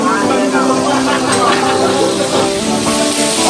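Chicken massalé sizzles and crackles in a pan, a steady dense frying hiss at close range with light stirring noises, no voice over it.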